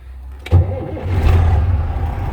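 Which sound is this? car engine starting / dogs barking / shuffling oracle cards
car engine starting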